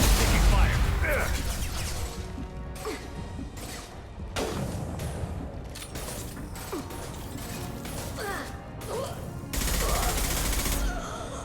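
Gunfire in the shooter Mass Effect 2 crackles in heavy repeated bursts with mechanical weapon clatter, loud and close, while voices call out over the fighting.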